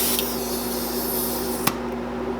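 An airbrush sprays Yeti white, a slightly grey white paint, onto the belly of a walleye-pattern big twitch bait lure. It makes a steady close hiss over a low hum, then cuts off with a click partway through, with no talking.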